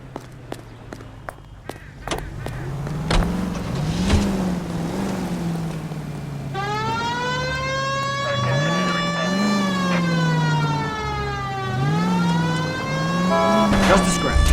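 Police car siren in L.A. Noire, rising and falling in a steady wail over a running engine with footsteps and other noises before it; the siren starts partway through and sounds loud and close.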